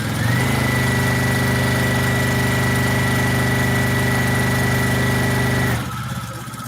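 A sewing machine stitches down a sleeve in one continuous steady whir with a sustained motor tone, close and loud, then stops abruptly near the end, leaving quieter room noise.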